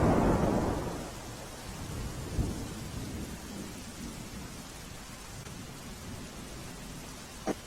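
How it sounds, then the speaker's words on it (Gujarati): Heavy, steady rain falls over Ankleshwar in Bharuch district, with a deep rumble of thunder at the start and a softer roll partway through, all under a continuous wash of rainfall. "છેલ્લા 3 કલાકથી સમગ્ર ભરૂચ જિલ્લા અને અંકલેશ્વરની અંદર સતત વરસાદ વરસી રહ્યો છે"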